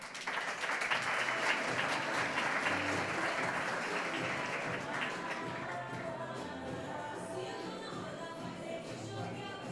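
An audience applauds as three speakers are welcomed onto the stage at a healthcare technology session. The clapping is dense and steady, then gradually thins and softens toward the end.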